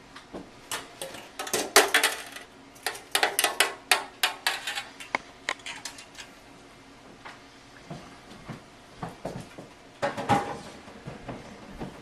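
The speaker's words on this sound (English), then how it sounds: "now we're going to turn it out on to a rack so it can finish cooling completely" Cranberry walnut bread is turned out of a metal baking pan onto a cooling rack, with a run of sharp clanks, taps and rattles of pan and rack, irregular and close, no voices.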